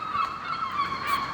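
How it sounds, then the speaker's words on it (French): Seagulls perched in a row on a crane above a market in Porto call continuously, their steady, fairly loud cries layered over one another with no speech. "Ah, il y a plein de mouettes sur la grue là."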